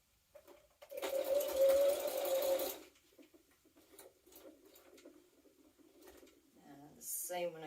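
A domestic sewing machine stitching a jumpsuit, a close two-second burst of rapid mechanical whirring, then quieter clicks and handling noises as the fabric is adjusted, ending with brief fabric rustles.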